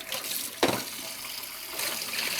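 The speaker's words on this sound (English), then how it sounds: "And I'm just washing out my tank" Water rinsing out a film developing tank, a steady splashing, gushing flow close by with one sharp splash near the start.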